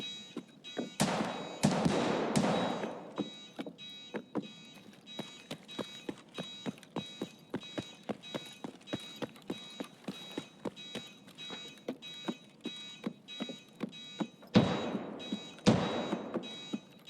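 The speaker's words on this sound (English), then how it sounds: "That sounded like a shotgun." Shotgun blasts in Escape from Tarkov on the Woods map: two loud, booming bursts early and two more near the end, with a steady rhythm of light crunching steps ticking between them.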